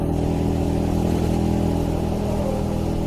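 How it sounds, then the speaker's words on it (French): A motorcycle rides steadily over a grooved, uneven road, giving a constant loud engine drone with a low rumbling buzz from the tires, close and continuous, without speech. "il conduit sa moto sur une route rainurée"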